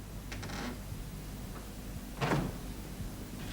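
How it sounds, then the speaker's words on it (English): An indoor door is pushed shut with a single muffled thud and brief scrape, following faint earlier rattles in a quiet room. "Come in and shut the door."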